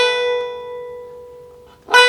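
A single clean high B rung on the 7th fret of an Irish tenor banjo, a pure sustained tone slowly fading before a brighter attack of the next note at the very end.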